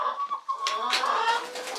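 Chickens in a farm chicken house where pumpkins have been thrown in, a continuous near mix of clucks and bird calls with no talk.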